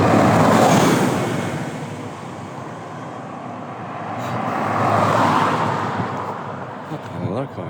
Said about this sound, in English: Another car, jeez.